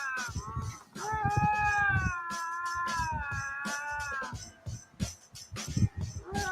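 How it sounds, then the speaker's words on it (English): Two lynxes fight with drawn-out, wavering yowls and rising caterwauls, broken by harsh growls and short hisses. The cries are loud and close and overlap in uneven bursts. "These 2 lynxes have a heated argument."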